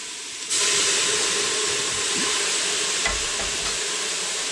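Cooking wine poured into a hot pan of browned bits hisses and sizzles into a loud, steady rush of steam that begins abruptly and holds without pause.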